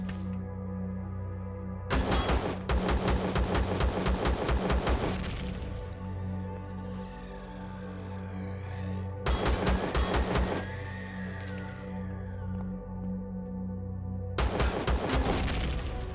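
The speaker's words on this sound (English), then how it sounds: "Sentry guns everywhere." Sentry guns in Empyrion Galactic Survival fire in loud, rapid automatic bursts, three long barrages separated by quieter stretches of ringing echo and low rumble.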